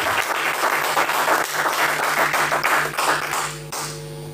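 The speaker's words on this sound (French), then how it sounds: "Tu vas acclamer encore trop fort pour la gloire du Seigneur." Church congregation applauding warmly during a sermon on prophecy, dense steady clapping for about four seconds before easing off.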